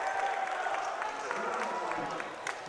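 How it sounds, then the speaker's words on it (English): Basketball crowd in the Grant Center cheering and yelling loudly during an Averett versus Lynchburg men's game, a steady dense roar with scattered shouts and claps throughout. "everybody here in the Grant Center is loud, yelling as loud as they can"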